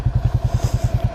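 Buell Blast, an air-cooled beginner motorcycle, pulling away with a loud, close, steady thumping exhaust pulse that repeats evenly about ten times a second.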